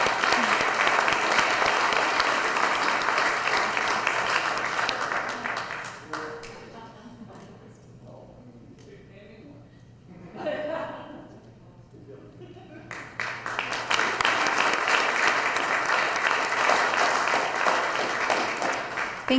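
A city council meeting audience breaks into sustained applause for a wastewater plant operator's 30 years of service, dense clapping that dips briefly in the middle before swelling back up.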